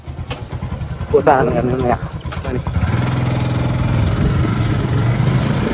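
An old motorcycle engine chugs at a steady idle and then settles into a running rhythm as the rider sets off, close and fairly loud, with someone speaking briefly over it near the start.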